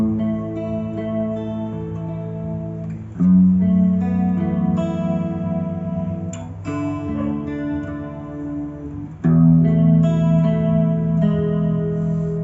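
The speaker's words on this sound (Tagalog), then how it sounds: "ang purpose ko ng Tang G ngayon ay chorus, delay, and reverb" Electric guitar run through a Tank G multi-effects pedal with chorus modulation, playing sustained chords with a shimmering, wavering tone and reverb tails, loud and up close, with no talking.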